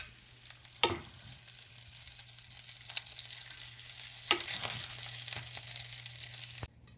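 Gyro meat fries in oil in a pan with a continuous crackling sizzle, broken by a few sharp scrapes and clatters of a utensil, then cuts off abruptly near the end.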